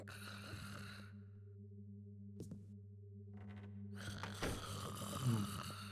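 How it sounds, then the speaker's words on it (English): Sleeping people snoring in a Thief fan mission set in a house: low, drawn-out rasping snores with breathy gaps and a steady background hum, moderately close, with no speech. "Everyone snores."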